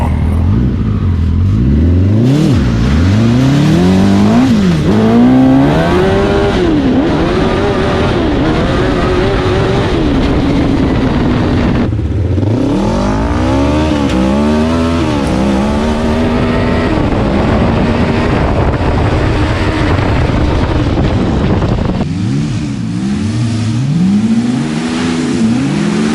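Home-made dune buggies race off-road, their mid-pitched engines revving hard and rising through the gears in repeated surges, loud and close throughout with no talk.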